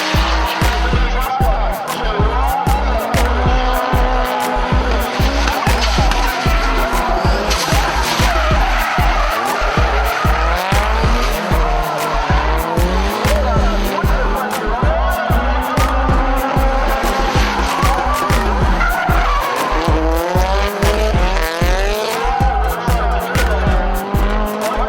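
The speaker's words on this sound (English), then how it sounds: "the drifting action was hard and fast" Japanese sports cars drift hard, with continuous loud tire squeals and skidding layered over revving engines, the pitch of the screeching rising and falling as the cars slide through corners, close and relentless.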